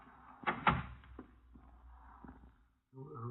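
A door is opened with a couple of faint knocks and a creak, followed by a few soft thuds. The sound is quiet and close, and a voice starts up at the end.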